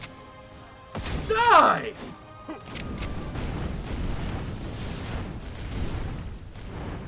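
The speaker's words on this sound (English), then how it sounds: "Ah, this is a shotgun!" A shotgun fires in the video game Skul the Hero Slayer, a loud close blast followed by booming impacts and rumbling, with a voice shouting over it.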